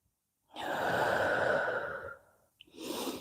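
One long, deep breath pushed out steadily during a yoga breathing exercise, close and breathy, then a short pause and the start of a second breath, with no talking.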